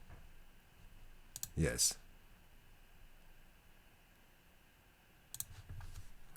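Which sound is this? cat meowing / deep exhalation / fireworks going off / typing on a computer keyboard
typing on a computer keyboard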